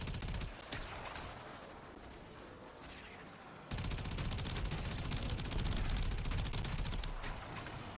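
Video game gunfire rattles in a dense, continuous barrage, swelling louder after a brief lull and holding steady to the end with no talk.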